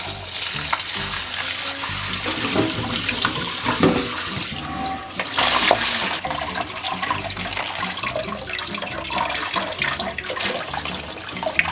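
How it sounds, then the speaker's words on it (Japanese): Running tap water splashes over chestnuts being rinsed of sugar, a continuous loud hiss and spatter with clinks and rustles of the nuts being stirred by hand. "一晩置きました砂糖洗い流します。"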